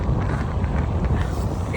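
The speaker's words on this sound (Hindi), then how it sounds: "इतनी ठंडी हवा चल रही है" Cold night wind sweeps across a rooftop, buffeting the microphone as a steady, close, low rumbling roar for the whole stretch, with no one speaking.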